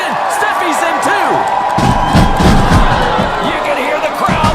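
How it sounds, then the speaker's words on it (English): A loud arena crowd at a women's professional wrestling event cheers and roars in a continuous wash of noise, swelling midway, with a commentator talking over it. "You can hear the crowd now, baby"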